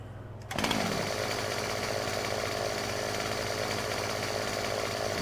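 A chainsaw in Farming Simulator 2015 starts with a sharp burst and then runs steadily at a loud, even roar for several seconds, the rough buzz holding constant throughout.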